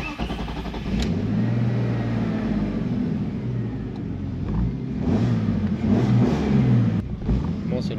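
A Peugeot 406 turbo engine idles and revs in rising and falling surges while its clutch is tried out, the engine note rumbling steadily with people talking over it.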